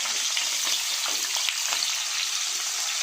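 Round potato slices frying in white oil with a little salt over a high gas flame, a loud, steady, crackling sizzle throughout with occasional stirring sounds.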